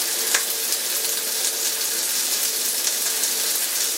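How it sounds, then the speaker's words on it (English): Hamburger buns toasting in a hot cast iron pan, giving a steady, even sizzle that lasts throughout with no voices. "toast a couple of buns."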